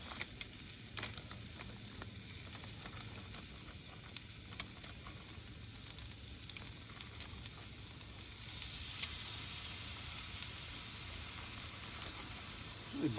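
Chops frying in a pan at a camp: a steady, broad sizzle and hiss that grows a little louder partway through, with faint pops and no talking.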